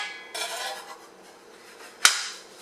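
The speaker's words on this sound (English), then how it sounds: "This is the splatter shield." A plastic splatter shield from a Hamilton Beach stand mixer is handled, giving a soft rustling scrape followed by one sharp, bright click or clack.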